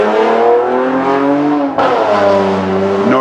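Loud tuned import car roars past up close with a droning, rising engine note, a brief dip as it shifts, then revving on.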